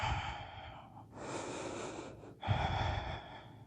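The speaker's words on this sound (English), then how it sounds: "We breathe." Deep breathing during yoga practice in a triangle pose: a long audible inhale and exhale through the nose and mouth, close and quiet, with airy rushing breaths following one another.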